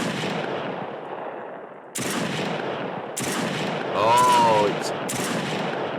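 Weapon gunfire in a first-person shooter game built in Unreal Engine 5.2, heard as a few loud abrupt shots with a brief voice exclamation between them.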